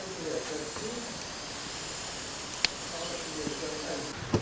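Sausages simmer in a small pot of water for rougail saucisse, giving a steady low hiss and bubbling throughout, with a couple of brief clinks near the middle and end.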